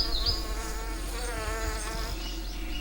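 Honeybees hum around lily flowers, making a continuous close buzz that wavers in pitch, with faint high chirps now and then.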